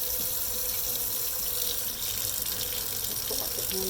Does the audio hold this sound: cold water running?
yes